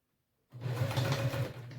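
A sewing machine stitches a messenger bag at a 3.5 stitch length, its motor whirring in a steady close run after a silent start, then easing off near the end.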